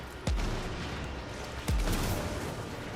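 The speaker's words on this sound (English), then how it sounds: "Someone's hitting me with these explosives." Two heavy booming blasts from a Bombard enemy's explosives in the game Warframe on PS4, about 1.4 seconds apart. Each blast starts with a sharp, loud crack and leaves a low rumble that fades.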